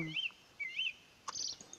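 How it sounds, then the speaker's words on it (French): Birds at Lac Vert lake give a few soft, high chirping calls in short bursts over quiet outdoor ambience, with no talking. "il y a plein d'oiseaux"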